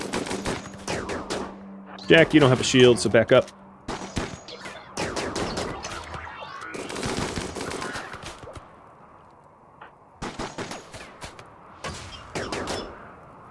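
Gunfire from colonist shooters firing at will in the video game RimWorld rattles in bursts and rapid volleys, mixed with clattering game effects, while a voice gives orders over the shooting.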